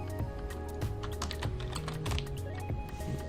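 Keys clatter on a computer keyboard in a quick irregular run of taps and clicks, close and steady over a low background hum, with no talking.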